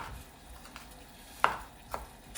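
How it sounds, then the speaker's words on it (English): A knife chops half a tomato on a board in a few soft, sparse cuts, with two sharper taps standing out over faint kitchen background noise. "Let's chop the other half."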